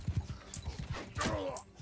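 Horse hooves in Mount and Blade battle: a rapid rhythmic clip-clop of galloping hooves sits close and moderately loud under battle noise, with a whinny-like cry partway through.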